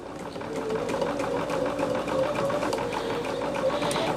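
Sewing machine running steadily as it stitches and quilts the lining of a project bag at a 1-inch seam guide, a continuous close, even mechanical whir with rapid needle ticking throughout.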